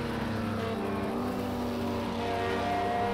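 Race cars lapping Le Mans in a racing video game, a steady engine drone with sustained revving tones and slight pitch shifts, moderately loud and continuous with no speech.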